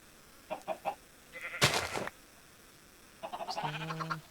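Minecraft chickens from the Sky Factory 3 modpack give a few short clucks and squawks, close and fairly loud, with brief pauses between calls and no talk.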